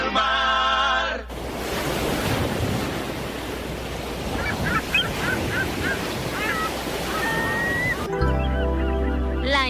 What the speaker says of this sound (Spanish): Olas que vienen, olas del